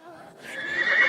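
A horse gives a single clear whinny that swells in loudness toward the end, close by, following a faint moment of quieter ambience.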